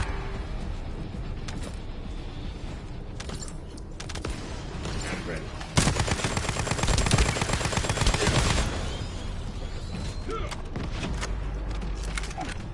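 Ultimate Lepic weapon firing in the shooter game The First Descendant: scattered shots and mechanical clicks build into a loud, dense burst of rapid automatic fire lasting a few seconds, then drop back to lighter game sounds.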